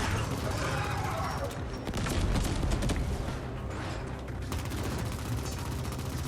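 An enemy in The Ascent fires off a barrage of missiles, producing a loud, rumbling run of rapid bursts and booms that continues under a speaking voice.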